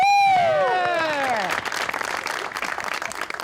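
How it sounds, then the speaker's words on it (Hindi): Audience applause on a Pakistani Eid special comedy show, a swelling dense clapping that builds after a musical jingle fades, steady and fairly loud to the end. "इनके लिए भरपूर तालियां।"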